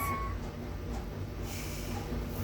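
A cat meows during a session of the game Wolf Gone Wild, a faint indoor call set against a steady low background hum, with no one talking.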